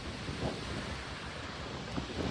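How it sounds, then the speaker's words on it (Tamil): Strong wind of about 26 km/h gusts outdoors in snowy Canada, a constant roaring rush buffeting the microphone with no voices. "26 கிலோமீட்டர்ல காத்து அடிக்குது"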